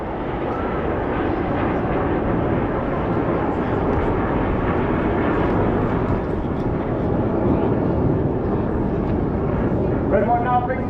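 Red Arrows display jets flying in formation at the Bournemouth Air Show 2023, a loud, continuous broadband roar that holds steady throughout, with a commentator talking over it.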